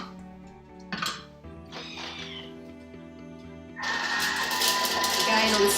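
A Thermomix blade chops fresh basil and parsley, a loud whirring buzz that rises suddenly and runs steadily to the end, after a few light knocks and a voice speaking nearby.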